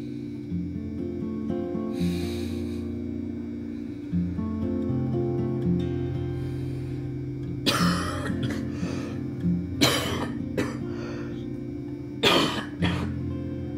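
A man who is ill coughs and clears his throat at night, close and fairly loud, in several separate harsh bursts over a steady low hum and faint tonal background.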